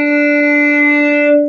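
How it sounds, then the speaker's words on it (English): A single bowed violin note on the open D string sustains steadily and loud for a moment, rich in overtones, with no other sound. "all you have to do is play your open D string for two beats"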